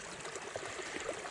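Creek water flowing steadily out of a swamp overflow into the main creek, a soft continuous trickle and gurgle close by with no voices.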